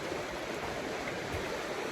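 A river rushes steadily alongside a winter hiking trail, a continuous broadband wash of flowing water that stays close and even throughout with no voices.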